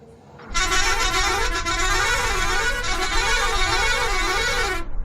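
A loud, sustained electronic bus horn in a video game blares for about four seconds with a wavering, warbling tone, then cuts off abruptly.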